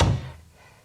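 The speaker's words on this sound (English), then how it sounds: "Denny grabbed the handle and yanked it open." A door yanked open by its handle, heard as a single close, heavy thunk with a low-end knock that fades quickly, in a dramatised spooky story setting.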